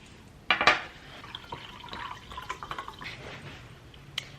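Sparkling water poured into a glass, with a sharp splash and fizzing crackle at the start, then a stretch of soft trickling, bubbling and little clinks, and one last bright drip near the end. No one speaks.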